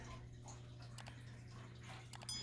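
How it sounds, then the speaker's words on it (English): Faint, steady splashing of a hot water fountain in a quiet room, soft continuous trickle with a few brighter drips and splashes over a low background hum. "Nice sound of the hot water fountain."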